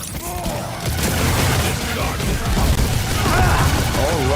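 Rocket explosions in a video game battle, a dense run of booming blasts and crashing bursts that pile up loudly and continuously, with a thick rumbling wash of game noise beneath them.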